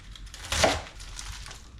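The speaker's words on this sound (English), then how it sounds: "Wash my lettuce. Slice it thin." A knife slices washed lettuce thin on a board, giving one soft crisp cutting stroke with a faint crunch, close and quiet, with no talking.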